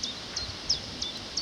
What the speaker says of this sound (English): the omnipresent chiff-chaff continues